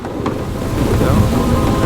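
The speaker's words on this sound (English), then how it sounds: "Outside, the storm raged" A loud thunderstorm from the video game A Fisherman's Tale: a deep rolling thunder rumble swells over steady pouring rain, heavy and close.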